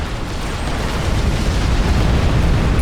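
Nuclear blast in Supreme Commander: Forged Alliance, a loud sustained roaring rumble filling the whole stretch without any talk.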